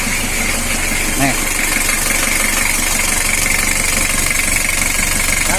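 A Mitsubishi L300 engine idles roughly with a steady knocking tick running through its close, loud, continuous drone.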